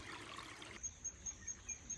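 A barely moving creek trickles very faintly and steadily, with a soft, regular high chirp repeating in the background.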